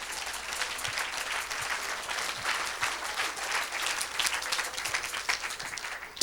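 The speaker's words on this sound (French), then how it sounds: "Tu peux acclamer pour la parole si tu peux." Church congregation applauding and cheering, a steady wash of many hands clapping at medium distance that holds throughout with slight swells.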